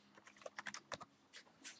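Fingers typing on a computer keyboard while configuring a Debian 8.4 Linux machine: a short burst of light, irregular key clicks, close and moderately quiet, with no speech.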